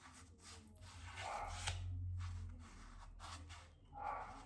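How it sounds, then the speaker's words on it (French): A dog named Zeus barks indoors, several short barks and yips spread unevenly over a few seconds, fairly close, over a low steady background hum. "Zeus, il aboie"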